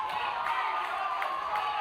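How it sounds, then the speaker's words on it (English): An England crowd roars and cheers at a Touch World Cup men's 30s semi-final, a steady, distant wash of voices and applause filling the stadium without a break. "Listen to the England crowd."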